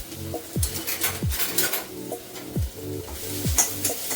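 Capsicum, onion, ginger and garlic sauté in a little oil for chicken crispy, giving a steady close sizzle. A spatula scrapes and taps against the pan at a regular pace, all over soft background music.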